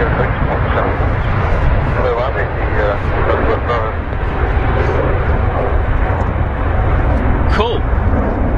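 A steady, loud roar of an aircraft flying past at Manchester Airport, with broadband rumble and wind buffeting the microphone throughout, and voices talking underneath.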